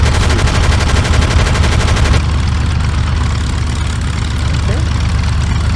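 Rapid machine-gun fire from a P-51 fighter in a WWII flight sim on Oculus Quest rattles steadily over a droning engine, then stops while the engine hum continues.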